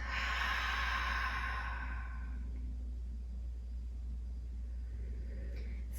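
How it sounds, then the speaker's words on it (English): A long, deep breath out during a restorative yoga session, a loud airy exhale lasting about two seconds that fades into quiet, close to the listener over a steady low hum. "Deep breath out."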